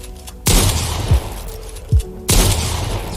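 Shotgun blasts in Fortnite on Nintendo Switch: two loud, close booms with long decaying tails about two seconds apart, with a couple of short thuds in between.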